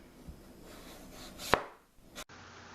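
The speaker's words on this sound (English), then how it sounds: "peeling the skin off prior to cutting the rind off" A knife slices the skin off a piece of watermelon rind, a soft scraping drag building to one sharp crisp cut near the middle, then a second short scrape before quiet.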